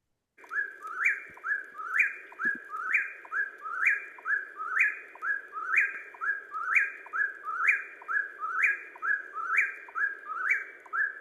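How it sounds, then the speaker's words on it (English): An eastern whip-poor-will calls over and over, each clear whistled three-part phrase repeating at a steady, rhythmic pace, loud and close against a quiet background with no voices. "That's our eastern whippoorwill."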